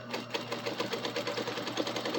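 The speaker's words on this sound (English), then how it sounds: "Stitch it down in place." A sewing machine runs steadily while stitching down a belt loop, a close, continuous rapid whirring rattle with no pauses and no talk.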